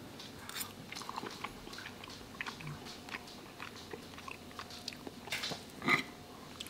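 Soft crunchy chewing of pan-fried bass seasoned with garlic salt and paprika and cooked in butter, close and quiet with small bites over outdoor background noise at a winter campsite.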